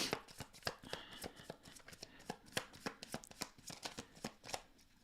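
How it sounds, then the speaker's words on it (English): A deck of tarot cards is riffled and shuffled in rapid, crisp bursts of snapping card edges, close and fairly loud, ending with a card being drawn. "I want to pull one more card."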